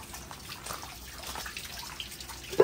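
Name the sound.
water being poured onto a potted orchid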